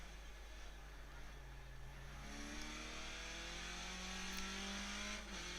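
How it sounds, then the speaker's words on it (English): Skip Barber race car in the iRacing sim at Okayama, engine droning steadily with rising and falling pitch sweeps from blips on downshifts, continuous and fairly loud throughout. "Also just blipping the engine on downshift"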